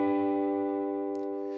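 An electric guitar chord played high at the 12th fret rings out as one sustained, clean, shimmering sound that slowly fades, faint and heard alone.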